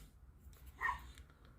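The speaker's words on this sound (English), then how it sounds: "My dog is still barking." A small pet dog lets out a single short, faint bark in the background of a quiet indoor room.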